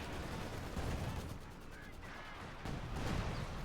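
Gunfire from the Company of Heroes 2 strategy game, a dense, continuous battle din of shots and distant artillery rumbling throughout with no clear gaps.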